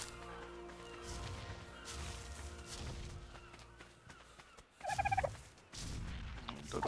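A pack of compies, small dinosaurs in the video game Ark Survival Evolved, gives off chirps and gobbling squawks over footsteps and rustling, with a louder burst of calls near the end.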